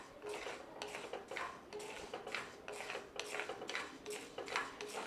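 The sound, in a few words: dry-roasting kattu yanam rice in a pan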